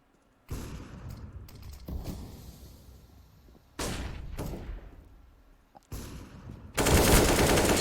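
Gunfire in Counter-Strike: Global Offensive during a competitive esports match, several separate bursts of shots and clatter with quiet gaps between, ending in a loud, dense volley.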